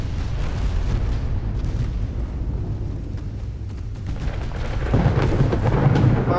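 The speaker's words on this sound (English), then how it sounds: "fire your main guns on that way" Warship main guns fire in the naval battle game Ultimate Admiral: Dreadnoughts, heavy rumbling booms rolling one into another, with a louder, denser burst of cannon fire toward the end and no talking.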